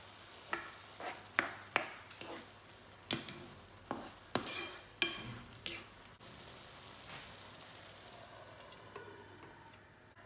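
Tomatoes and beef cubes frying in a pan, a soft sizzle beneath a series of sharp spaced clicks and knocks from stirring, then a quieter stretch of low frying hiss.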